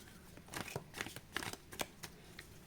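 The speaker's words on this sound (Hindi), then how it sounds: "हम एक गाइडेंस कार्ड ले लेते हैं।" Tarot cards riffled and shuffled by hand while drawing a guidance card, a quick series of soft papery flicks and taps close by, with no talking.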